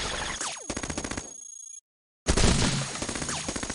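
Rapid automatic gunfire bursts from the roguelike robot game Cogmind, crisp repeated synthetic shots in quick rhythmic strings, a sudden silent gap, then another loud volley.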